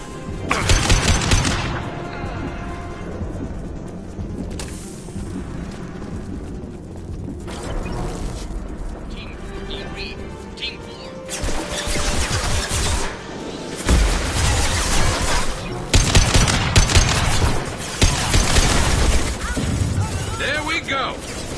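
Weapon fire from the Mass Effect 2 video game, a broadband burst of shots near the start and heavier, denser gunfire later, loud and close amid game effects, with voices speaking over parts of it.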